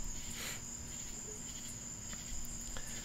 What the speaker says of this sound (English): But instead of them being wolves, they are crickets.